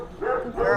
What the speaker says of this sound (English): There's a dog.